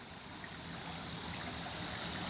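Creek water flowing strongly far below a high bank, a steady broadband rush heard from a distance at low level, with no voices.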